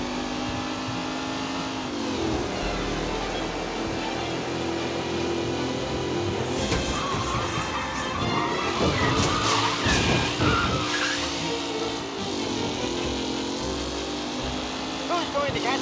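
Race cars in the Mafia Definitive Edition video game speed past with sustained engine roar, squealing tires and skidding, the sound swelling loudest in the middle under music and scattered game noises, with a commentator's voice heard at points.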